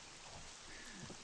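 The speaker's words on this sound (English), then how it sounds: "the reception here is horrible in this rain" Steady rain hisses continuously in the HorrorVale video game, a dense wash of patter with faint low rumbles underneath and no talk.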